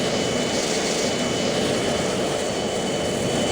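Steady, dense roar of a jet aircraft engine in the flight game Strike Fighters 2, an unbroken cockpit drone that holds level throughout.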